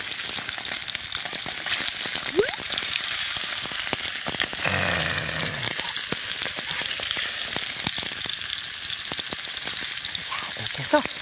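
Food sizzling in an uncovered frying pan over moderate heat as moisture cooks off, a steady loud crackle and hiss with scattered pops and a short scraping stir midway.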